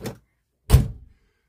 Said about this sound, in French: on va fermer la porte